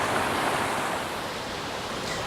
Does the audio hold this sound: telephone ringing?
no